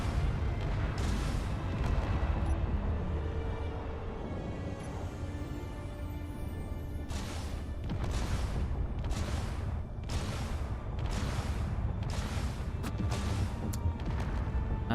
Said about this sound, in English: let's blow those hydrogen tanks and see how much damage they do